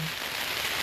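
Steady rain pours outdoors at an anti-pipeline protest outside a fundraiser, a dense even hiss that holds at a constant level throughout with no voices.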